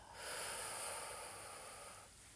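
One long, steady exhalation during a guided sophrology relaxation exercise, a soft breathy rush of air close to the microphone that fades gently toward the end.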